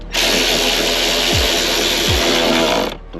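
A power driver runs a screw into the plastic door trim of a 2019 Ford F150, a loud, steady whir lasting about three seconds, with a couple of quick pitch drops before it stops.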